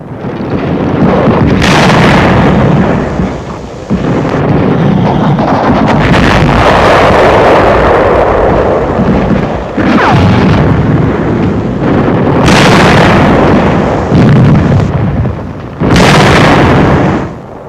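Artillery explosions strike as a tank takes a direct hit during the 1945 WWII Third Army Rhine crossing: several heavy booming blasts, loud and close, rumbling over rough wind buffeting the microphone.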